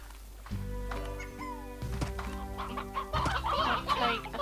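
Hens cluck in the farming video game Slime Rancher, with a series of short clucks over a steady droning game soundtrack that grows busier toward the end.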